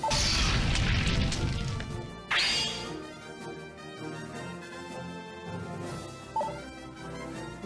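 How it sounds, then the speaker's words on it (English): Crashing, booming impacts as fortresses are smashed in the tactics video game Yggdra Union, a heavy noisy burst at the start, another sharp hit midway, then a ringing musical tail and a smaller strike near the end. "We smashed all the fortresses."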